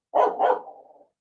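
A small dog gives two quick, close barks that run together and trail off into a short whining tail, with no one talking over it.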